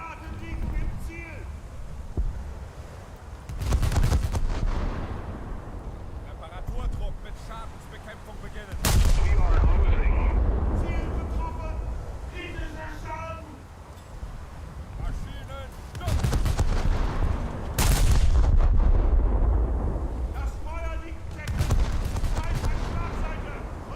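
Von der Tann's rear-turret guns in World of Warships fire on an enemy Alaska: four or five heavy booming salvos spread apart, each with a rumbling tail, while someone talks throughout.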